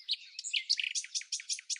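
Wild birds in the Bahamas singing, a bright, high, rapid series of chirps and warbled notes repeating in quick rhythmic phrases, close and clear with no other sound.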